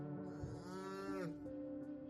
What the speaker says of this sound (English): we see a cow that was born with 2 heads.